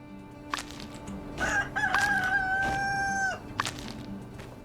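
A rooster in the farming game My Time at Sandrock gives one loud, drawn-out crow, framed by soft clucks and light game sounds.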